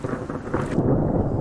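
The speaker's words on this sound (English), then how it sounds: "It's just I find it amusing that you can hear the thunder very clearly" Thunder in the survival video game Subsistence, heard as a deep, loud, continuous rumble with wind-like roar that swells toward the end, no talking.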